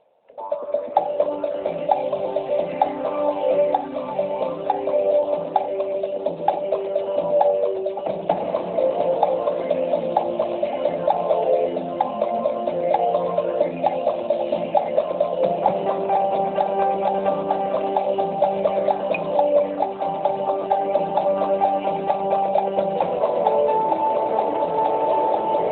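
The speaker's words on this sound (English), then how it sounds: "I'll start the clock." A steady game show countdown clock ticking throughout the letters round of a word quiz, with a dense backing music bed, continuous and loud, no talk over it.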